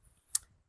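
A single sharp key click on a computer keyboard, faint and isolated against near silence.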